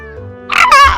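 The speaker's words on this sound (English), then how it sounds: "You see this cat here?" Stray cat in the video game Stardew Valley lets out a single short, loud meow that rises and wavers over about a second, heard alone.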